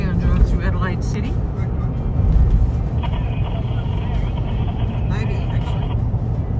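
Car driving through Adelaide city streets, a steady low road and engine rumble filling the cabin throughout, with people chatting inside over it.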